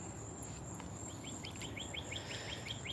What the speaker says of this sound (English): That thing that with the buzzing wings, it's going to town. It's making a lot of noise.